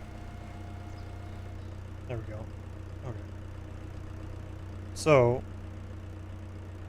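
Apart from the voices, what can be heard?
tractor engine running in video game Farming Simulator 2025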